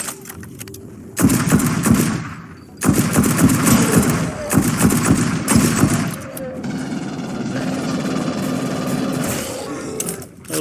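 Sustained automatic gunfire in the sci-fi shooter Aliens Fireteam Elite, loud dense bursts broken by brief pauses, followed by a quieter stretch of rumbling game ambience.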